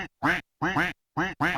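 Duck towers in a homemade Roblox tower defense game quack in a crisp, evenly spaced series of four loud close calls separated by silence.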